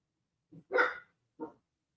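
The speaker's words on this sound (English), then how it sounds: "the guard dog's on duty over here. The guard dog's not happy" A guard dog barks three times, one short yelp, then a louder bark, then a final short bark, close and alone against silence.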